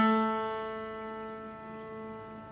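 A single long bowed A note sustains on a string instrument, a steady tone with many overtones that fades slightly as it holds, alone and fairly quiet.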